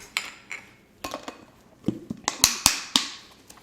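A spoon scrapes and clinks against a bowl while kosher salt and pepper rub is mixed. The clicks and taps are sharp and close, irregular at first and then quicker near the end.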